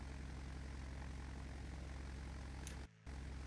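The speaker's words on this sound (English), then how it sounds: "your engines sound like they're on idle" Propeller aircraft engines idle in Microsoft Flight Simulator X, a Beechcraft Duke's twin piston drone holding steady and loud with a low pulsing rumble, briefly cutting out near the end before returning.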